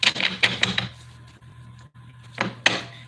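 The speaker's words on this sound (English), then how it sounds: "I'm going to keep shuffling till they tell me to stop." Tarot cards riffle and slap in quick rapid bursts of shuffling, close and crisp, pausing briefly before another flurry, with no voices.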